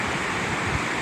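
A flowing mountain stream in the Sawtooth wilderness being forded on a snowy trail, a dense, continuous rush of water close by, loud and unbroken.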